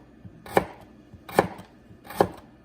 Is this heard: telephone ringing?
no